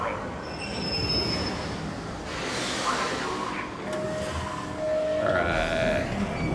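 In the video game Arc Raiders, a train rumbles in with loud, drawn-out metal wheel squeals and heavy rolling noise, close and continuous for several seconds.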